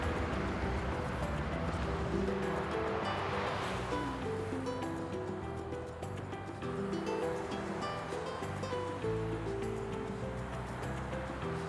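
Sea waves at a beach wash and roll continuously in a loud, close, steady surf roar, with wind and faint background voices mixed in.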